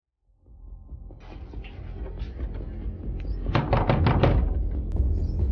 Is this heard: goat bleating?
no